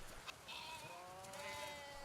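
Goats bleating on a livestock farm raised for milk, with a couple of wavering bleats close by, moderately loud over faint background noise.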